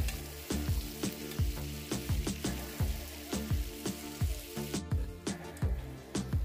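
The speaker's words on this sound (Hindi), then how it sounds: "अब मैं इसमें बारीक कटी हुई प्याज को डालूंगी और उसे सुनहरा होने तक भूनूंगी।" Finely chopped onions fry in hot oil for chicken curry, sizzling steadily with repeated sharp crackles and pops, close up, over a droning background hum, with no talking.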